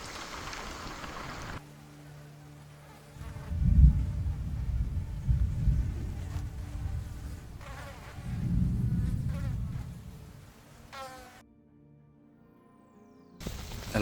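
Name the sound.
mosquitoes buzzing in Lapland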